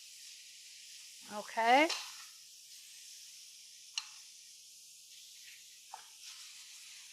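A cod fillet sizzles in a hot pan after being flipped, a steady bright hiss running throughout with a brief spoken word early on and a few soft clicks.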